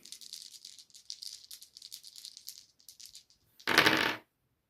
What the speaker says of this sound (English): So she's rolling 4 dice base.